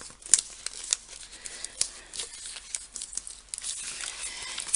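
Paper folds pressed and creased by hand for a laminated notebook craft project, giving soft crinkling rustles with sharper scattered crackles, close and quiet.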